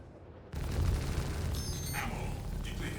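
Ship exploding in the Star Citizen video game, a sudden heavy boom that sets off a sustained crackling, rumbling blast, with a few brighter bursts layered on top, loud and close.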